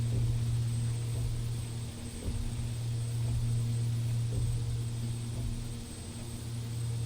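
Turboprop engines of a King Air B200 in X-Plane 11 on landing approach with gear down, a continuous droning hum with steady low tones and faint periodic thumps, no talking.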